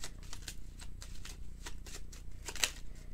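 Someone shuffles a deck of Lenormand fortune-telling cards, making a steady run of close riffling and flicking bursts with a soft background hum underneath.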